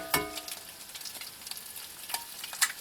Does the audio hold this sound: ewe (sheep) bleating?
no